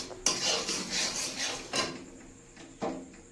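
A metal kadai holding jaggery-sweetened rice is taken off a gas stove, producing three distinct clanks and scrapes of metal against the burner, close and fairly loud, with rustling in between.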